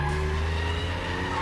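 Car's rear stepping out through a corner on a turbocharged car, a loud continuous engine drone with a strained tire squeal layered in, held steady throughout.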